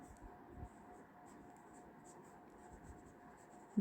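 Quiet scratching of writing on a board in a classroom, soft uneven strokes continuing steadily against a faint background hum.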